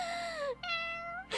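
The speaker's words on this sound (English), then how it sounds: "Average cat behavior" Two meows from a cat in the game Disco Elysium, each a clear, close, slightly falling cry, the second one longer and steadier, with no talking over them.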